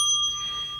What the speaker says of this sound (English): That's the bell for coffee. Ring for coffee.